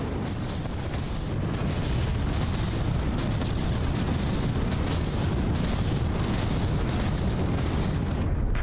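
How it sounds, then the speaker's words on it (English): Continuous rapid artillery fire from the Project Broadsword warship firing frag rounds in From the Depths, a dense, loud barrage of booming blasts in steady pulsing bursts with no pauses. "the Project Broadsword is really providing some good continuous frag damage firepower there"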